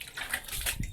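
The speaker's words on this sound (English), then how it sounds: "Therefore, I'm sprinkling some water" Water sprinkled by hand over a freshly swept earthen floor in an African village home to settle the dust, a close, brief splashing patter with no talk.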